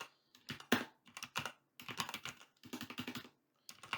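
Clicky bursts of keystrokes on a computer keyboard, close and crisp, come in quick uneven runs separated by short pauses, with no voices.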